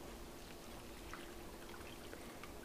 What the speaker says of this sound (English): Once it's stirred, you can now pour it into your bowl.